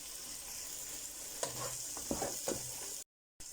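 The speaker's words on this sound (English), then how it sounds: "The masala is ready, so I can add my bitter melon." Bitter melon tipped into a pan of frying masala, a steady sizzle with a few stirring scrapes and knocks, close and alone, then a brief gap.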